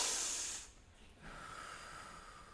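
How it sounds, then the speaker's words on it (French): A theatre audience at a local student talent show finale breathes in deeply together during a short relaxation exercise, a broad soft hiss of many inhalations that fades out, then a steadier, quieter airy exhale that lingers. "On commence par prendre une grande respiration."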